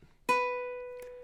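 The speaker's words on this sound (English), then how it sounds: "We're going to start by placing our middle finger here on the 2nd fret of the A string, plucking that." A single ukulele note plucked at the 2nd fret of the A string rings out clearly and close, decaying slowly with a faint second touch near the end.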